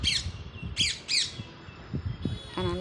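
A parrot eating on a rooftop garden gives three sharp, loud squawks in quick succession, followed by softer rustles and pecking sounds and a brief chirp at the end.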